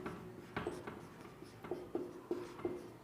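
Pen writing by hand on paper, heard close and quiet as a series of short scratchy strokes and taps at an uneven rhythm, with no voices.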